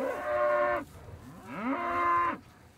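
Grass-raised, hormone-free white-faced cattle on a farm give two long, loud moos close by, one after another with a short gap between.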